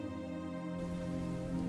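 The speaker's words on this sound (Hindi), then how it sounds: "अरे माँ, बारिश शुरू हो गई है।" Rain beginning as a story sound effect: a steady wash of falling rain, close and even, with a tonal hum running beneath it through the short stretch.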